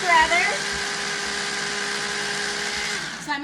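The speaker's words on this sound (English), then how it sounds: "So I'm going to move us over to our mixer." An electric stand mixer whirs steadily at one speed for about three seconds, a close, even mechanical hum that starts and stops with a slight clatter at each end.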